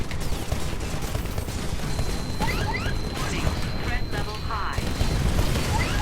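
Gunfire from the Titanfall beta, a mech and parkour shooter: dense, rapid bursts of shots and booms rattle on for six seconds amid steady game noise, with faint chirping effects layered over the barrage.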